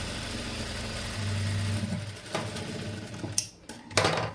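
Sewing machine stitching a blouse runs in a steady, continuous mechanical whir, with a brief lower hum partway through and a few sharp clicks near the end.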